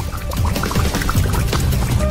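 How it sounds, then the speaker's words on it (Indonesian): A drink is poured into a glass, a steady close splashing pour lasting a couple of seconds with a loud, full sound. "Kita tuangkan minuman kami ke dalam gelas"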